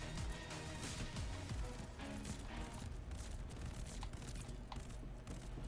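Burst fire from the UGM-8 in Warzone, four rounds per trigger pull, repeating in a steady dense rhythm over busy game noise at a fairly low level.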